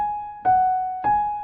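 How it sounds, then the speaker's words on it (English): On a piano, a single A note is struck in a short beginner's ending, with two clear repeated attacks about half a second apart that ring and decay. It sounds close, alone and quiet. "then you can add a little trill. It sounds like this."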